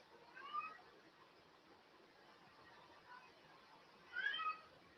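A cat meows twice, a few seconds apart, fairly faint and close-ish in a quiet room, with a soft background hiss between calls.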